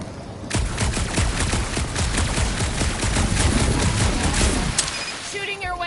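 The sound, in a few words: gunfire in Marvel's Guardians of the Galaxy video game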